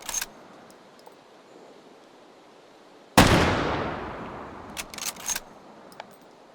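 A single loud, sharp blast from a Mosin Obrez sawn-off rifle in the VR game H3VR, with a long decaying boom, followed by a few quick metallic clicks of the bolt being worked.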